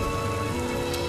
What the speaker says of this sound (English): The rain starts, the wind and the rain hits your face as you're leaving that door.